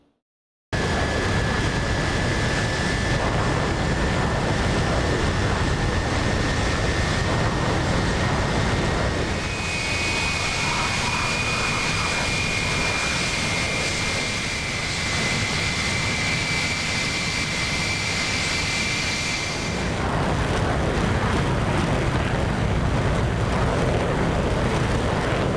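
An F-15E Strike Eagle's jet engines roar loud and steady while the aircraft taxis in the DCS flight simulator, with a thin high whine rising partway through and no talk over it.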